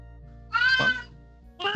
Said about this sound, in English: Yeah, I agree with the cat.